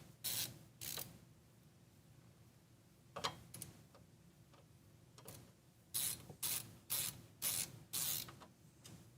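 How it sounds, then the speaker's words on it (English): Ratchet clicking in short bursts while a liquid-cooled EK Fluid Gaming pre-built PC in an O11-style case is taken apart, with several quick runs of sharp mechanical clicks near the mic and quiet gaps between. "Hope you guys like ratcheting sounds."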